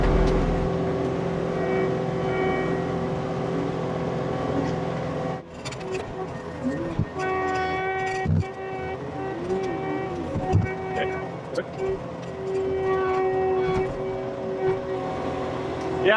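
A loader's diesel engine drones steadily under strain while lifting a heavy load, with a shift in pitch midway, clanks and knocks of machinery, and someone talking nearby.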